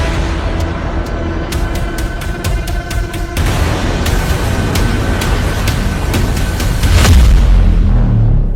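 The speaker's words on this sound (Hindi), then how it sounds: "इजराइल में ईरान की जुल्फिकार मिसाइलों के धमाके ट्रंप के सभी दावों की धज्जियां उड़ा रहे हैं।" Booming blasts from Iranian Zulfiqar missiles striking in Israel: a continuous heavy rumble with sharp crackling impacts, growing louder and deeper near the end.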